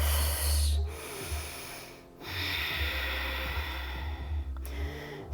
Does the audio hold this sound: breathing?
yes